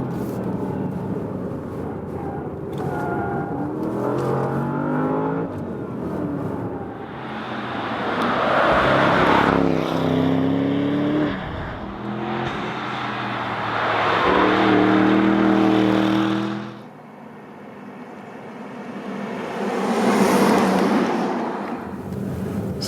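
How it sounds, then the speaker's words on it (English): A Porsche Panamera Turbo S E-Hybrid corners hard on a racetrack, its engine note rising and falling in loud revving surges with a high tire squeal layered over the roar. "enjoy the last corners here with me with squeaking tires"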